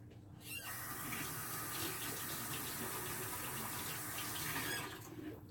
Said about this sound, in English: Washing the cheese off.